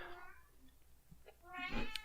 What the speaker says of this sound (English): my cat is happy about it too